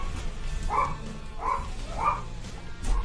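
Three short dog barks spaced evenly about half a second apart, moderately close, over a low steady background hum, with a faint fourth yip at the end.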